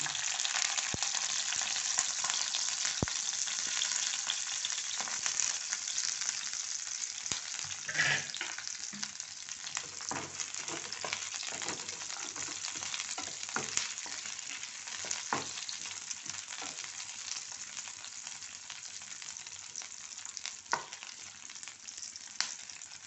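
Roughly cut large onion fries in hot oil in a pan, making a steady bright crackling sizzle throughout, with occasional stirring scrapes and pops, close and with no talking.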